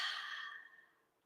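A deep, airy exhale released after holding a full breath at the top during a guided breathing exercise, one long soft breath that starts strong and fades away over about a second, close to the microphone.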